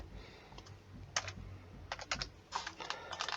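A number is being typed on a computer keyboard in quick bursts of close, light clicks separated by short pauses.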